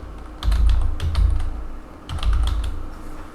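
Keys clatter on a computer keyboard in two quick bursts of close, crisp typing separated by a short pause, with no talk over it.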